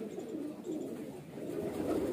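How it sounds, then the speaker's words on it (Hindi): A highflyer breeder pigeon coos softly, low throaty burbles rising and falling in a couple of gentle phrases, close by and alone without talk. "ये बाहर से आया हुआ कबूतर है"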